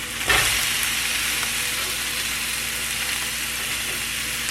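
Salmon patties fry in about two tablespoons of oil, browning and crisping with a loud, steady, close sizzle and one brief clatter near the start.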